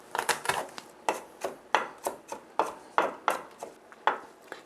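A knife chops garlic on a cutting board in quick, fairly even strokes, a dozen or so crisp taps with short gaps between them, close by and moderately quiet, with no talking.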